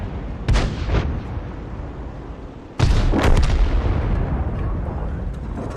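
Heavy booming artillery fire from an M53/M55 self-propelled gun in a tank battle video game, two deep blasts with long rumbling tails, the second louder and sustained.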